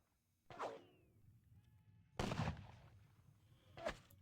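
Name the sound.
battalion gunfire volley in video game WDS Ney at the Katzbach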